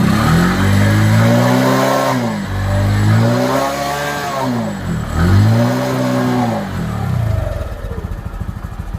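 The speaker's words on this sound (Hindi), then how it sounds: "देखिए हम एक्सीलेटर बढ़ाते हैं और गाड़ी को ज़मीन पर रखते हैं" Bajaj Discover 125 motorcycle engine revving loudly and close in repeated rising-and-falling throttle bursts, about three strong pulls before dropping to a rough, uneven idle at the end.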